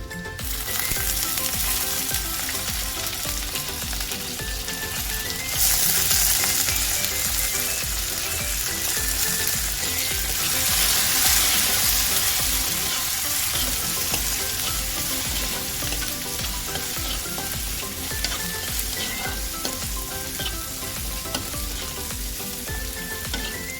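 Soaked peanuts and chana dal frying in a pan of oil, a loud continuous sizzle with crackles and stirring scrapes that runs unbroken and steady throughout.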